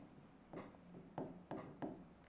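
Marker or chalk scratches across a board during a chemistry lecture, several short rubbing strokes in a quiet room, faint and close, with no talking.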